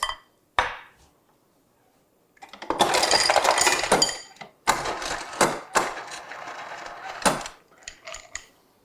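Ice cubes rattle and clink for a drink in a home kitchen, with a few sharp single clinks, then a loud scooping clatter and scattered knocks of cubes dropping into a glass.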